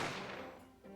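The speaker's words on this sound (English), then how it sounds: "I didn't have time to think of where the sound of the gunshot had come from" A gunshot sound effect in the courtroom mystery game The Great Ace Attorney: one sharp blast that decays into a rolling, reverberant rumble, with a faint low thump near the end, quiet overall and free of speech.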